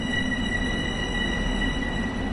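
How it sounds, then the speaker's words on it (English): A train in the video game Train Sim World 2020 gives a steady rumbling roll with high, sustained wheel-squeal tones, continuous and fairly loud, with no voices. "Looks like we're going to miss the train again."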